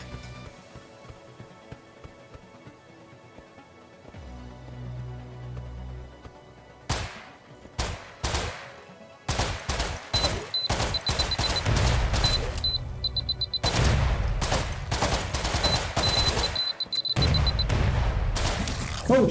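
Gunfire in the zombie video game Zombuds: a quiet stretch with a low rumble, then rapid bursts of sharp shots come thick and loud, repeated in close volleys until the end.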